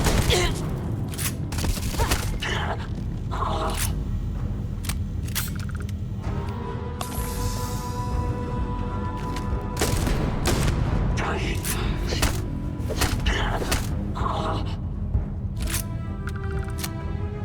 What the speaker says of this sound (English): This is not a great shotgun.